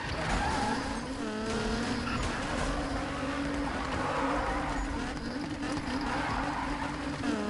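A powerful car drifts in a PS4 racing game, its engine revving and wavering with tires squealing and skidding throughout, loud and continuous, with no speech over it.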